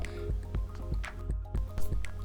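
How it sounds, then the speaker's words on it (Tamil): Water is poured into a jackfruit seed gravy in a cooking pan, giving a series of wet drips and squishy splashes in an uneven rhythm, close and moderately loud, without talk. "நமக்கு தேவையான அளவுக்கு தண்ணி ஊற்றிக்கலாம்"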